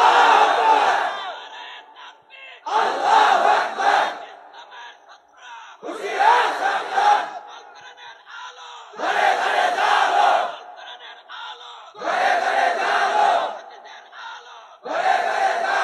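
Crowd at a religious sermon shouting takbir in unison, six loud collective bursts of voices at regular intervals of about two and a half seconds, with quieter murmuring between them.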